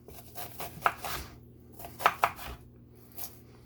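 Knife slicing an onion at angles on a cutting board, a handful of crisp close chops in uneven clusters with quiet pauses, heard alone.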